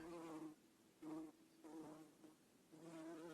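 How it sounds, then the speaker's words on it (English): A bumblebee with a thick body and black and yellow bands buzzes near a Yellowstone fire tower, a steady low droning hum that swells and fades in several pulses as it moves close. "It was a bumblebee."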